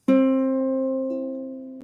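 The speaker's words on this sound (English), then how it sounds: "Next one down is a C string." A single ukulele C string is plucked once for tuning, a clean, close tone that rings and slowly decays, followed by a faint touch near the end.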